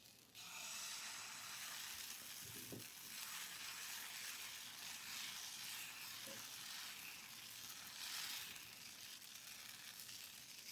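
Rice and lentil dosa batter on a hot tawa gives a soft, steady sizzle and hiss that runs for several seconds, with a couple of faint clinks and no speech.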